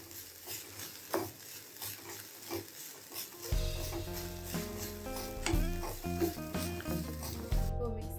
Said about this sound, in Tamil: இதை நல்லா ட்ரை ரோஸ்ட், இதில் உள்ள மாய்ஸ்சர் போகிற அளவுக்கு இதை நல்லா ட்ரை ரோஸ்ட் பண்ணிடணும்